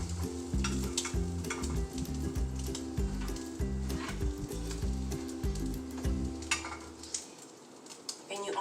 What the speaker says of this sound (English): hear the sizzle on there.